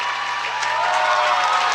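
A crowd at a Windsor vs Woodstock boys high school basketball game cheers and applauds in a loud, continuous roar during the fourth quarter.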